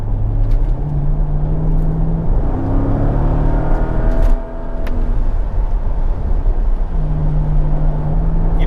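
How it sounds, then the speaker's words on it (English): Mercedes SL rear-wheel-drive car revving hard as its rear wheels spin, a loud, continuous engine drone with rising and falling pitch, close by, with a brief dip midway before the note returns. "No, Jackie! Stop spinning the wheels!"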